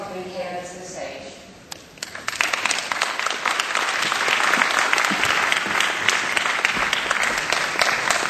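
Audience applause welcoming a speaker to the stage at a digital publishing conference, building from a short voice into a full, steady clapping crowd that fills the room and continues loud to the end.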